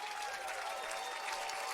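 Baseball crowd at a Hamilton Cardinals game against Brantford cheering after a go-ahead two-run double, a dense steady roar with applause holding loud and unbroken throughout.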